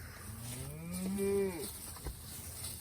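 An Angus cow or calf lets out a single drawn-out moo, close and clear, rising and falling over about half a second against a quiet outdoor farm background.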